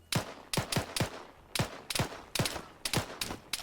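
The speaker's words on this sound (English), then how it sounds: "Why do they always have machine guns?" Bursts of machine-gun fire in the Arma 3 video game, in short volleys of two or three sharp cracks, loud and close. Brief gaps separate the bursts and nobody talks.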